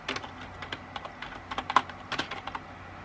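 Brisk typing on a new computer keyboard, close by, with irregular clusters of sharp key clacks and short pauses between bursts, alone with no talk.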